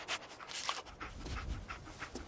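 Dogmeat, the dog companion in Fallout 4, panting in quick rhythmic breaths up close, with soft game ambience underneath and no talking.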